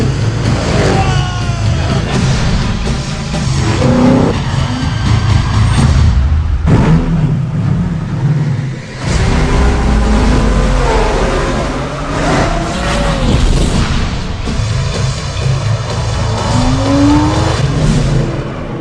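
Race car in a video game roars past at around 230 miles an hour, loud continuous engine drone with rising and falling revs, gear shifts and tire squeals throughout, with voices faintly underneath.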